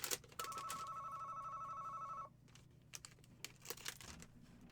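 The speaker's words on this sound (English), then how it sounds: "there goes a bloody phone" A telephone rings with a steady electronic trill for about two seconds, then stops, leaving a quieter background with clattering and shuffling noises.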